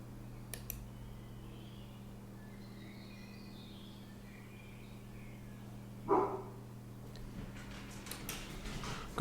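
A stepdaughter's pet dog lets out a single short bark partway through, heard indoors at moderate distance over a steady electrical hum and faint ticking.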